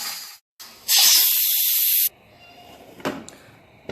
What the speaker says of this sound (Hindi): विसल हमारा चलने लगा है।